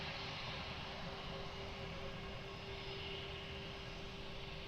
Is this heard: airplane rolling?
yes